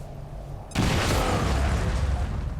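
A large explosion goes off in the tactical strategy game XCOM 2, a sudden loud boom that jumps in abruptly after a quieter stretch and then holds as a dense, roaring rumble with crackling debris to the end.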